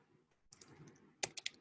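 Keys typed on a computer keyboard while entering a domain name, a short cluster of crisp, fairly close clicks after a quieter stretch, quick uneven taps toward the end.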